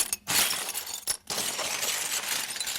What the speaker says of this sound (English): Craig and I went out and got some glass bits and wound up breaking those.